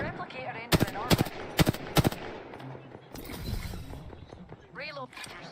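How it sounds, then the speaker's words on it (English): Gunfire in a sci-fi shooter video game: four loud, evenly spaced shots crack in quick succession, then a rougher burst of weapon noise, with a voice talking in between. "Joker's shooting at me"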